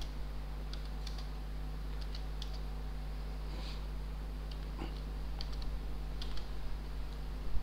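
Code being typed on a computer keyboard gives quiet, irregular clusters of key clicks over a steady low electrical hum, close but soft, with no speech.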